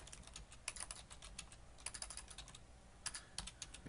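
Rapid, uneven keystrokes on a computer keyboard with bursts of clicks and brief pauses between them, close and alone with no voices.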